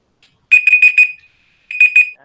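A timer alarm at a school math competition event sounds in two separate bursts of rapid, bright electronic beeping, loud and close, with a brief silence between them.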